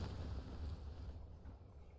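Vehicle rumbling along in PUBG during a duo FPP tournament match, a steady low engine drone with wind-like noise over it, fading slightly toward the end.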